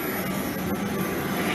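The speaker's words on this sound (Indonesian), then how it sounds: "helikopter milik PT WKS atau Sinarmas saat ini sedang dipinggirkan dari lapangan ini" Helicopters being moved off a KONI sports field in Jambi, one a police helicopter and another a PT WKS/Sinarmas helicopter, give off a steady loud engine and rotor drone that holds without a break.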